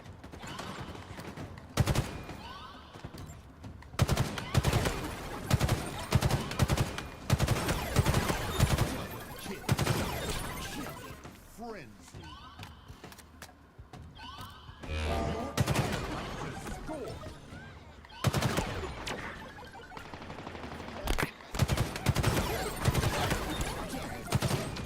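Heavy gunfire in Halo, bursts of automatic and single shots with explosions and game effects over a long busy stretch, occasional talk mixed in.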